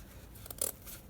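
Scissors snipping through a fabric strip during a ribbon rose craft, a single quick, faint crisp cut in an otherwise quiet room.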